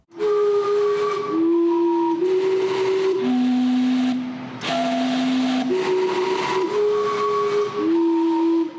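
Vancouver's steam clock sounds its chime in loud steam whistles, a sequence of sustained tones stepping up and down in pitch with a breathy hiss and brief pauses between phrases.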